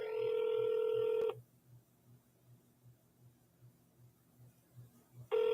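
A telephone dialing a number to redial it: a loud steady dial tone cuts off, then a rapid regular series of soft pulses, before the tone returns at the end.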